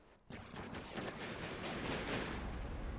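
Explosion during a battle in the video game From the Depths, a sudden loud blast followed by a sustained rumbling roar and crackle of gunfire-like bursts, no talk.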